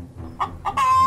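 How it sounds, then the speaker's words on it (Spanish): A chicken clucks close by, a few short clucks followed by a longer drawn-out call, brief and clear with no talking. "Vení que viene una gallina."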